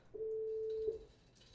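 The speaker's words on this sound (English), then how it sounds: "I'm playing a C sharp on the keyboard now" A single sustained keyboard note, a C sharp, sounds as a steady pure tone for about three-quarters of a second, fairly quiet and alone, then cuts off.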